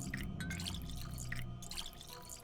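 Water being collected in Pathologic 2, a soft trickling and dripping wash with bubbly splashes over a low steady rumble, quiet and continuous with no voices.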